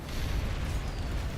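Explosions in the video game Planetside 2, a dense continuous rumbling roar of blasts with heavy low boom, loud and sustained without clear separate hits.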